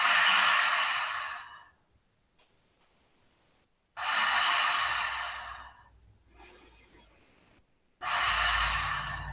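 Deep yoga breathing during a stretch with interlaced fingers and arms overhead: three long, full breaths, each a loud airy rush of a second or two, separated by quiet pauses, with no talking.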